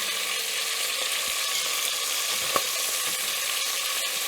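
Beef cubes sizzle steadily in a hot pan for a brown sear, a loud, continuous crackling fry with a brief clink partway through and no voices.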